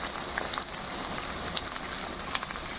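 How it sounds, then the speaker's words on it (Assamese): Onions frying in oil in a wok while cooking mutton curry, giving a steady, close sizzle with crackling pops throughout and no talking. "দেখা পাইছে পিঁয়াজ ফ্ৰাই কৰি আছোঁ"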